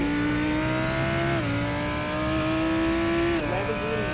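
A Lamborghini GT race car in a racing game at Bathurst roars steadily, its engine note dropping sharply on two gear changes before climbing again, loud and close throughout.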